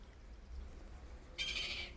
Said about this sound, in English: Sorry about that bird. A seagull.